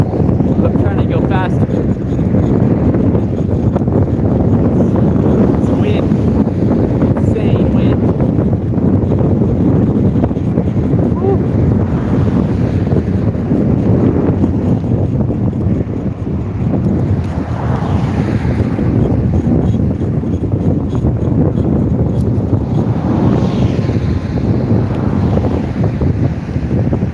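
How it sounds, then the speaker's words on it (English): Strong wind roars steadily across the microphone of a cyclist riding across America near Charleston, South Carolina, a constant loud buffeting rush with no letup. "I'm trying to go faster. It's wind."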